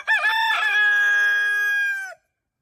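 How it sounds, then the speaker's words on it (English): A rooster crows once, loud and close, a long drawn-out call that rises and then trails off before silence. "When Scheherazade heard the rooster crow"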